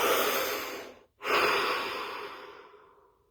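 A slow, deep breath taken during a guided body-scan relaxation, heard close up as a long airy draw, a brief pause, then a long fading exhale.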